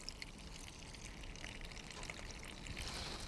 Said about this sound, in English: So into that, some nice lukewarm water